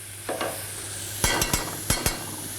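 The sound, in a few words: butter added to chanterelle mushrooms sizzling in pan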